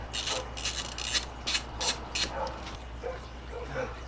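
Several dogs bark in repeated sharp bursts at close to mid distance, yapping and yipping over a steady low hum during a dirt bike carburetor job on a KTM 250XCW, then fading to softer whimpers.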